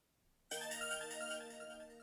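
Mega Man 2 soundtrack music starts abruptly from a phone speaker, a bright, tonal electronic burst that holds steady, fairly faint and alone with no talking.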